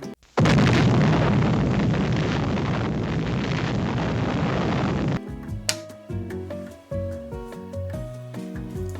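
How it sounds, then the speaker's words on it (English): An electrical short circuit fires through a five-bulb dim bulb tester: a sudden loud broadband burst roars for about five seconds, then cuts off into tonal, music-like sounds with a few sharp pops. "The short circuit was completely absorbed by the front 2 light bulbs."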